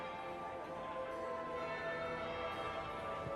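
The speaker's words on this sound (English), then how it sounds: "That would be the second bell." A church-style bell tolls in Dragon Age Inquisition, a sustained, ringing metallic tone with shimmering overtones that hangs steadily through the moment, moderately loud and alone without speech.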